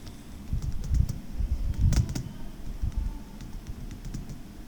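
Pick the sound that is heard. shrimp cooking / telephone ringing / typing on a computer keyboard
typing on a computer keyboard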